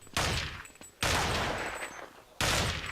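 Bursts of gunfire in Counter-Strike on the Mirage map during a pro match, three loud sharp volleys, the second sustained for over a second, with no talk.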